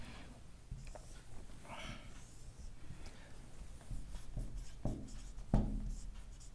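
A pen scratches out a written note on paper during a math lesson, faint irregular scribbling strokes and taps close by, with quiet room noise and a louder knock near the end.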